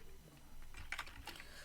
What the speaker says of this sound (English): press enter here, and then press the tab key on your keyboard